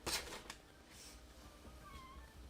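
Faint, distant cat meows over low background noise, a couple of short rising-and-falling calls with soft thumps and rustling nearby, no talking.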